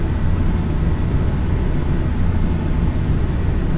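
Steady, loud broadband roar of Boeing 737 jet engines at reduced thrust in a flight simulator, continuous and unchanging throughout with no talking.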